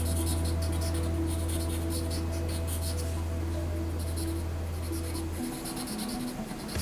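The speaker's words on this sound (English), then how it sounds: "you'll just draw hooks like that" Pen or pencil drawing short curved hook strokes on paper, a steady scratchy scraping close by, one stroke then another, over a constant low hum with no talk.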